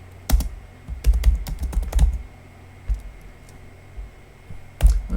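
Keys clatter on a computer keyboard while an essay is typed, quick bursts of close clicks followed by a pause, a lone stroke and then another short flurry.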